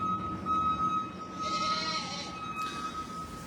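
Goats bleating on a farm, a couple of drawn-out wavering calls at moderate distance over steady background noise, with no one speaking.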